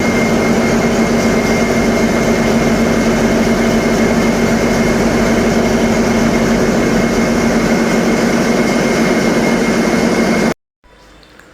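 Two machines in the engine room of a passenger launch on a river, running with a loud, steady droning hum and mechanical whine that cuts off abruptly near the end.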